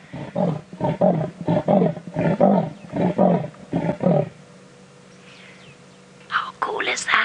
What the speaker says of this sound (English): That is what a leopard's roar sounds like.